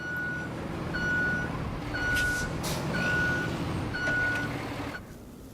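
A truck's reversing alarm in a video game beeps five times at a steady, even pace over a rumbling engine and ambient noise, with no talk.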